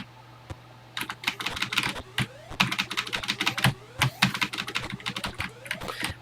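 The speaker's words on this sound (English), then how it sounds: "I'm not using a joystick, I'm using my keyboard" Keys on a Texas Instruments TI-99/4A home computer keyboard are pressed during a game of TI Invaders, giving rapid, close, clacky taps in irregular bursts over a low steady hum.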